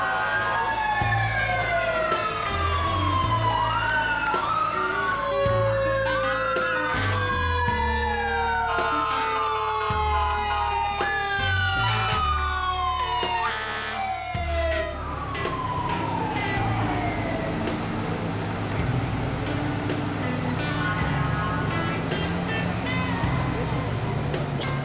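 Fire truck sirens wail and sweep up and down through a traditional local firefighters' parade in Maine, several sirens overlapping loudly and continuously over a steady rumble of engines and crowd noise.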